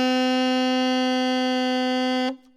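A saxophone holds a single steady note A, loud and close, with a rich stack of harmonics, sustained for over two seconds before cutting off cleanly.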